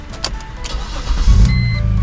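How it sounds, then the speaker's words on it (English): A BMW with an EWS 4 immobilizer cranks and fires up on a newly programmed key, a brief starter whir followed by the engine catching and settling into a low rumbling idle, close and fairly loud. "let's see if our car starts"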